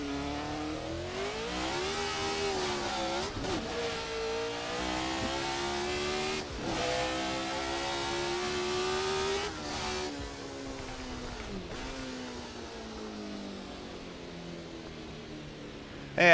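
A 1970s Formula 1 race car in Assetto Corsa on the Montjuïc Park circuit revs hard through the gears, its loud, harmonically rich engine note rising and dropping with each shift, close and continuous with no talk.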